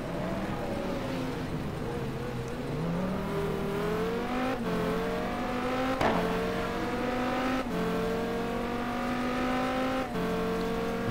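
Onboard engine of a GT1 race car lapping Suzuka in a racing video game, running tall gearing: a steady loud engine drone climbing in pitch through each gear, with sharp shifts roughly every one and a half seconds and no talk.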